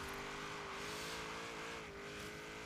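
A Gasser Chevrolet Bel Air races in Hot Wheels Showdown, its engine droning loud and steady at high revs with a brief tire squeal, and no talking.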